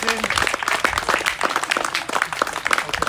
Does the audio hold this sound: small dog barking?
no